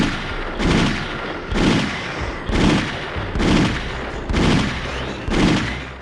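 Gunfire from the RoboCop video game comes in six loud, regularly spaced blasts about a second apart, each a heavy boom with a short rolling decay and no talking.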